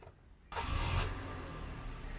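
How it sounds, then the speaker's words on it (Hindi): A car engine cranks and catches about half a second in, then settles into a steady idle close by, alone with no talk, from a model among cars priced under Rs. 30 lakhs in Pakistan. "तो जी गाड़ी हमने स्टार्ट की है"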